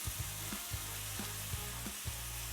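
Beef and garlic stir-frying in a hot pan, a loud continuous sizzle broken by regular scraping strokes of a utensil stirring the meat, close and without voices.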